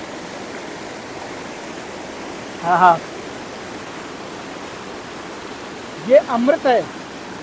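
Ice-cold water at the Yamuna river source, Yamunotri, runs as a steady broadband wash of stream noise throughout, with someone speaking briefly over it twice.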